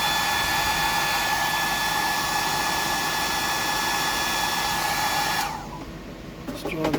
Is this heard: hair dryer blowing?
yes